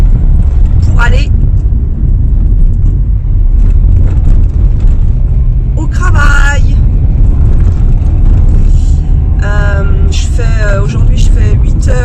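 A car carries passengers on an early-morning drive to work, its steady engine and road rumble filling the background while someone talks over it.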